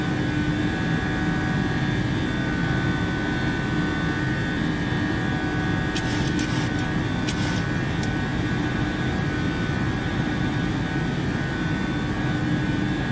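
A PMDG Boeing 737-800 cruises in flight in Microsoft Flight Simulator, giving a steady, loud broadband cockpit drone with a constant engine hum and a few brief clicks midway, no voices.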